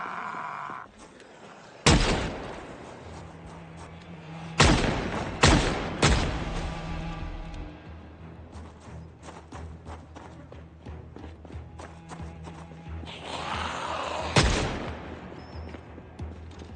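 A .357 revolver fires about six irregularly spaced, sharp, loud shots at zombies in the survival video game Project Zomboid. Faint footsteps and background game ambience continue between the shots.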